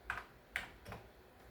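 Keys pressed on a Commodore keyboard, three separate clicky taps spaced roughly half a second apart, close and quiet against a faint background.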